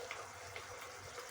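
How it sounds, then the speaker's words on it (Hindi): Water pours into cornflour in a small bowl for mixing, a soft steady trickle with a faint splash, quiet and continuous over a second or so. "अब इसमें मैं पानी डाल के"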